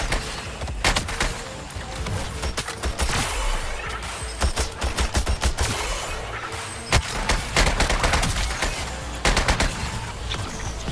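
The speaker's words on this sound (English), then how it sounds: "Let the bullets fly, people!" Rapid bursts of automatic gunfire and sharp shots crackle loudly and continuously in Suicide Squad: Kill the Justice League, with dense volleys broken by brief pauses and occasional heavier booms.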